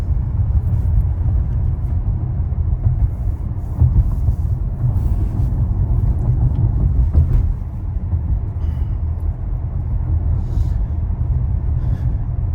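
Inside a car driving itself on FSD through Saturday noon traffic, a steady low road rumble carries on smoothly and without a break. No one talks.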